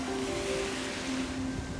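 Ocean waves washing onto a beach in Busan, South Korea, a constant soft surf hiss at low level, with a faint steady tone running beneath and no voices.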